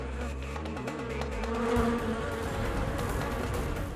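Yellow-legged hornets hunting honeybees at an apiary make a dense, continuous buzzing swarm, close and steady throughout with no voices.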